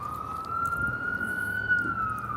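An ambulance siren passes close by, a loud steady wailing tone holding throughout with faint background noise beneath.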